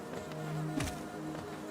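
Bees buzz in the Hollow Knight video game, a steady insect drone with a brief swooping sweep in the middle, set against a busy background of game sound.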